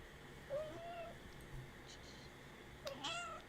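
A cat gives two faint meows, one early and one near the end, over a low background hiss.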